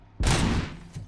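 A single sharp gunshot aimed at a power box in the video game RoboCop: Rogue City, one loud crack with a short decaying tail.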